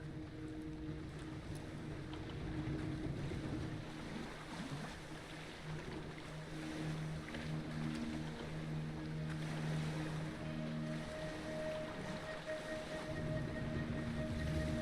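A ship in a video game moves steadily through water, with a continuous wash of waves and a low engine hum running throughout, a constant rumbling drone with no voices.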